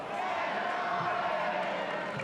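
Football crowd roaring steadily for Elversberg after a goal in a German 3rd Division match against Borussia Dortmund II, a dense, continuous stadium din with broad chanting and cheering throughout.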